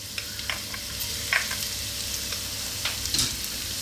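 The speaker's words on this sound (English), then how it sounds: "So we're going to start off by dropping in our ginger and our chopped garlic." Ginger and chopped garlic fry in hot sunflower oil over high heat, giving a steady, dense sizzle with a few brief clinks of stirring, close and unbroken, with no voices.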